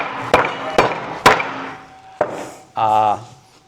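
A CPM 3V steel marking knife hammered into pine: three sharp, evenly spaced strikes, then a fourth, close and loud, with a short voiced exclamation at the end.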